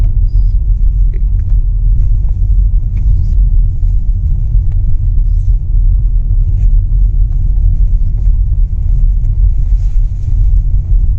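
A car drives through a dense forest, its interior giving a steady, loud low rumble of engine and road noise throughout, with no talking.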